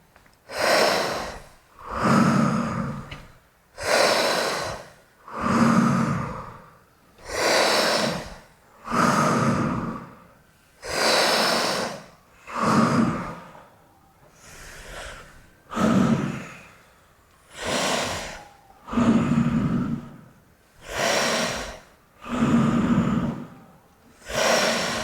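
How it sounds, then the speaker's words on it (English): Slow, steady breaths in and out through the mouth, about a dozen long airy cycles in a regular rhythm, close and fairly loud with no talking. "we're just going to breathe in and out"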